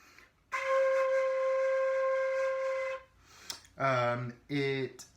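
A single high C note, around C5, on an American fife with six holes is held steadily for about two and a half seconds, followed by a short pause and a couple of brief voiced sounds.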